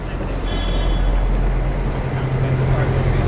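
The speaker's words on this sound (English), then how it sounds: "I nearly got hit by that bus, look at that." A city bus passes very close with a loud steady rumble of traffic noise and a high hiss of air brakes, the engine drone holding constant throughout the few seconds.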